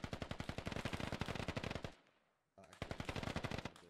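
Automatic gunfire in the military shooter Squad rattles in rapid, loud bursts, breaks off into a brief near-silence, then resumes as another fast, sharp volley.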